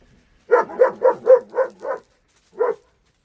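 German Shepherds barking: a quick run of six deep, loud barks, a short pause, then one more bark, close by with no talking.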